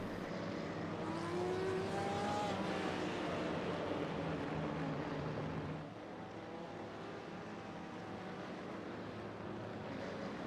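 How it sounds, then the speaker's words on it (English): GTE race cars roll together on a formation lap in a sim racing game, a continuous engine drone that holds steady, drops slightly in level partway through, and carries no talk over it. "As the cars are rolling now for the formation lap."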